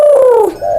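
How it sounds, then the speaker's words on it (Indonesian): A spotted dove (tekukur) coos loudly and close, with a falling, drawn-out call followed by a second, shorter coo, clear and alone as an eerie night effect. "Tiba-tiba terdengar lagi suara burung tekukur yang sempat ngikutin mereka di jalanan"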